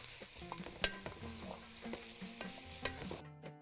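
Chopped onions frying in a pot, stirred and scraped with a utensil, clinks and scrapes over a continuous sizzle, close up, with no voices; the sound cuts off abruptly at the end.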